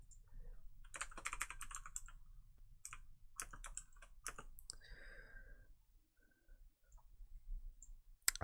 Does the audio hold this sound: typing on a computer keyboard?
yes